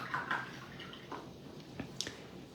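Watercolor brush dipping into and lifting water for a glaze, giving soft, close wet dabs and faint drips, a few quiet splashy touches spread over a couple of seconds.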